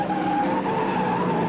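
A 1971 Daytona 500 stock car, the number 22, skids as the draft upsets its traction, a continuous loud engine roar mixed with tire squeal over a steady racing din.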